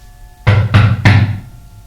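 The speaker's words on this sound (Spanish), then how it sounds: "Y entonces llegó el primer golpe a la puerta." Three loud, close knocks on a wooden door, evenly spaced and sharp, standing alone against a quiet background.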